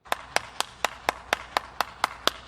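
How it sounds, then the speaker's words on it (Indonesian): Clapping in response to a speaker: about ten crisp, evenly spaced claps in a slow, steady rhythm, fairly quiet, over a faint background hum. "kita beri tepuk tangan terlebih dahulu untuk kedunguan tingkat akut bagi kakek Sanihu Munir."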